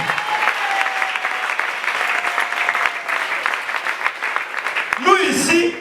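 A church congregation claps together in sustained, dense applause throughout, loud and close, with a voice rising over the clapping near the end.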